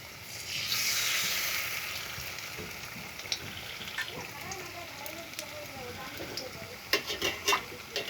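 Battered pui shak (Malabar spinach) frying in hot oil gives a steady, busy sizzle and crackle throughout, with occasional sharper pops and stirring clicks toward the end.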